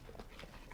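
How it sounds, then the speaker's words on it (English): A dog pants quickly and faintly in Dragon Age: Origins, with short rhythmic breaths over a steady background. "Bloody dog."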